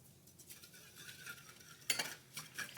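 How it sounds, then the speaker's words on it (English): Parsley, seasoned salt and seasoned pepper being mixed in a bowl, with soft scraping and clinking from a utensil and a brief louder clatter near the middle, close and fairly quiet. "Mix all that together."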